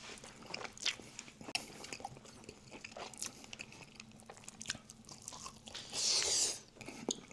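Biting and chewing a tender smoked pork rib: close, wet crunching and chewing sounds in an irregular rhythm, with a louder burst of crunch near the end.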